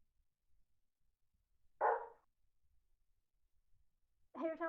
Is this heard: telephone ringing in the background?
no